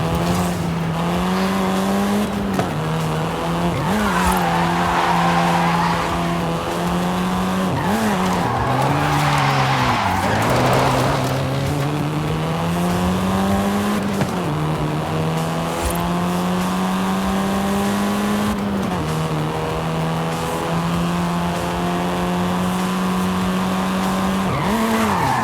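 In Forza Horizon 5, a Volkswagen Golf's engine revs and drones steadily while its tires squeal and skid through repeated slides, the rising and falling engine pitch heard loud and unbroken with no talking.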